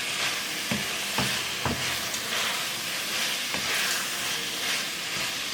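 Fish and tomato fry together in a pot, a continuous loud sizzle with periodic scraping clicks from stirring at irregular intervals, close up and without voices.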